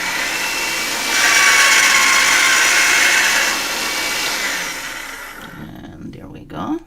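Motorized metal rolling mill pressing a mokume gane billet through its thickest setting, a steady grinding mechanical drone that swells louder for a couple of seconds and then winds down to quieter handling noises.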